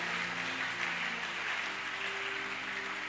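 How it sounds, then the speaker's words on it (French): A church congregation applauds in a steady, dense wash of clapping that fills the whole moment, with a low sustained musical hum underneath, loud and continuous throughout. "Est-ce qu'on peut acclamer le Seigneur?"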